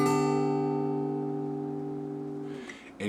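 A guitar in open G tuning is strummed once as a barre chord at the 7th fret, and the chord rings and slowly fades for over two seconds before a brief fret noise and a new soft attack, with no talking.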